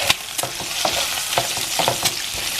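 Bacon and chiles fry in a pan with a constant crackling sizzle, broken by several close scraping stirs and clicks of a utensil.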